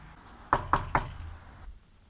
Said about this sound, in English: They knocked and they called out for Jesus.